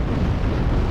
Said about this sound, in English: When explosions happen, just pause for a second, you'll be good.